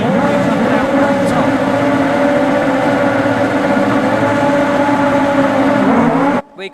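Motorbike-engined 2WD rallycross cars at Lydden Hill sit on the grid and rev hard before the start, a loud sustained high-pitched engine wail that cuts off abruptly near the end.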